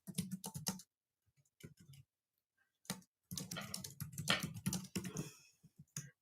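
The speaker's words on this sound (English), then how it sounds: "I can't type today, guys" Quick clattering keystrokes on a computer keyboard come in short close bursts separated by silent pauses, with a longer busy run of typing near the end.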